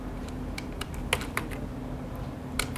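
Keystrokes on a computer keyboard typing out a short hashtag, with a sparse, uneven run of crisp clicks close by and no speech.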